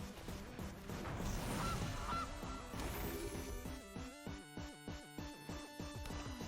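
Loud honking from Gilly Goose, a card in the MTG Arena video game, comes through as a cacophony of goose calls and crashes that settles into a rhythmic series of repeated honks.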